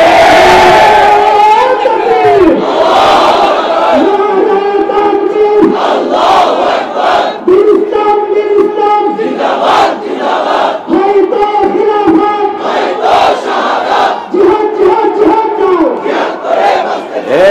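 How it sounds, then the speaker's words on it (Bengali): A large crowd at a night-time Islamic religious gathering chants slogans in loud, rhythmic call-and-response bursts, many voices rising and falling together, with shouted lines repeating throughout. "এত রাত্রে স্লোগান দরকার নেই"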